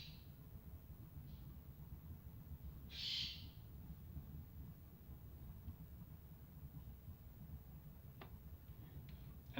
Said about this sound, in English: please shut the fuck up, birds